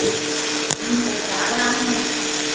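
An electric ceiling fan being switched off indoors: a steady whirring motor hum with a single sharp click partway through, the drone continuing at close range afterward.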